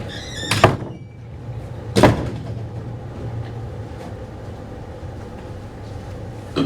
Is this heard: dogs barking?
no